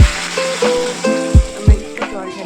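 Jackfruit fries in a spice masala in a pan, giving a soft sizzle under someone speaking, with a few clinks of a utensil against the pan.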